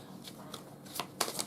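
Tarot cards being shuffled in quick bursts, with soft riffling flutters separated by brief pauses and a sharper, denser run of shuffling near the end, close and fairly quiet.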